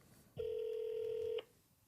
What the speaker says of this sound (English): I'm just going to hit call me on here and it should start ringing